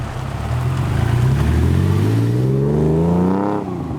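A TVR Speed 6 straight-six revving hard through a Borg-Warner gearbox, the engine note climbing steadily and loudly from low to high pitch before easing off near the end.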